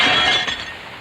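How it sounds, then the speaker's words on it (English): A window glass pane pressed into soft putty gives a brief, close glassy rustle and creak that fades within about a second, with no talking. "Pick up the glass, place it into the putty like that and press it into place."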